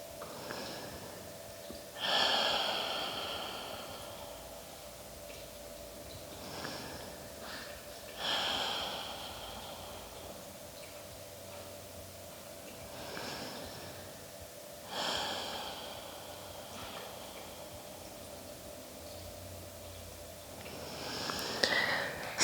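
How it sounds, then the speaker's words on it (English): Slow, deep breaths during a yoga session, each long inhale and exhale rising and fading in a steady rhythm every few seconds, close and soft, with no talk over them. "Three more breaths here."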